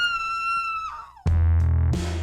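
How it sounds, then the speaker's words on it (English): A girl's shrill scream on finding a dead body in the 1981 film Scream, first a long high wail that drops off, then a harsh loud burst with low booming music hits under it. "Everyone wakes up when this girl starts screaming after finding the dead body."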